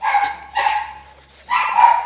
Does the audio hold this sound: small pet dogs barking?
yes